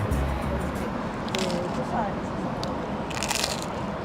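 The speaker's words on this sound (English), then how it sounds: "They heard the crunch, I felt the crunch, I tasted the crunch" A square pizza slice with a crisp bottom crust is bitten, giving short crunchy bites and crackles close to the mic against a busy, noisy room.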